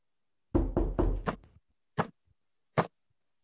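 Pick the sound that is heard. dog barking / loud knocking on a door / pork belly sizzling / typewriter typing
loud knocking on a door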